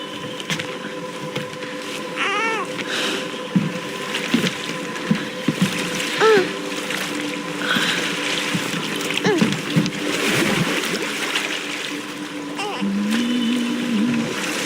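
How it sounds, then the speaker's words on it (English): Small boat gliding over gentle river waves in God of War Ragnarok, with soft lapping and trickling water throughout, occasional creaks and splashes, and a faint background voice and musical tones. "Do you enjoy the gentle waves, little one?"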